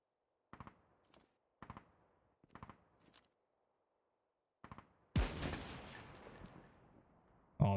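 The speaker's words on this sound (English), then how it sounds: "Oh, this gun's loud" Gunfire in Call of Duty: Mobile Battle Royale: four or five separate sharp shot bursts spaced about a second apart, then a much louder sustained blast with a long ringing decay, loud and close, with no talking.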